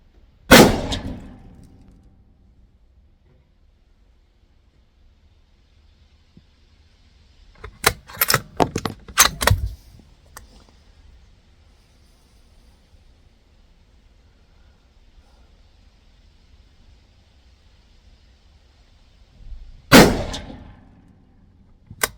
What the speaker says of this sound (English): So I'm going to get these loaded up and send some rounds down